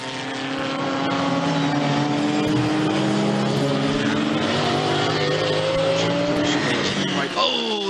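Porsche GT race car engine roaring steadily on the track at Zandvoort during a British GT round, loud and sustained with shifting engine tones and other cars mixed in, under commentary.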